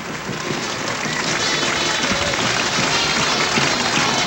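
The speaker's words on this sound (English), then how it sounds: "Have the cheerleaders and the band and their crowd, of course, on the home side standing and cheering this 2-0 football team" A home-side college football crowd, with band and cheerleaders, cheers at a Penn vs Columbia game in 1984, producing a loud, steady wash of applause and roaring voices that holds throughout.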